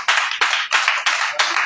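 A church congregation claps together in a steady rhythm, five sharp bursts of many hands striking in time, loud and close, acclaiming Jesus during a prayer cell meeting.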